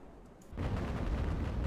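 Sailing warship cannons boom in a naval battle from Ultimate Admiral: Age of Sail, a faint muffled rumble of gunfire that swells after a quiet start and rolls on continuously.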